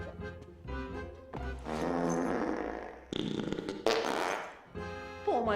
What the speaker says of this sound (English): there's fart jokes that go on way too long